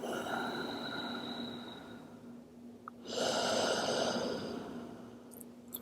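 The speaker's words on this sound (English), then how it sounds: "Constrict the muscles in the back of your throat and exhale out your nose." A slow breath drawn in through the nose, then a longer, louder exhale through the nose with the back of the throat constricted, giving a soft hissing, oceanic rasp.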